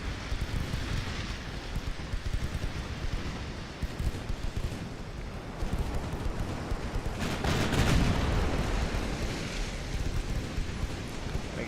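Warship guns fire in a naval battle in Ultimate Admiral Dreadnoughts, where the Russian Empire fleet peppers an enemy ship with secondary guns. The sound is a dense, continuous roar of rumbling gunfire that swells slightly toward the middle.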